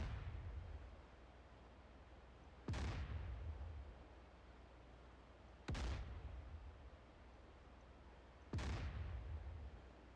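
Three heavy naval gun blasts from a warship in a combat flight and naval simulation, spaced a few seconds apart, each a sharp boom trailing into a rumbling decay over a low, quiet background.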